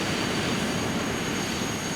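Steady, loud roar of a Bombardier CRJ 700 regional jet's engines, a continuous airy whine heard close by with no talk.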